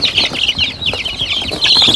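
Chicks cheep in a delivery box holding twelve, with dense, continuous high peeping and a few scuffles, loud and close.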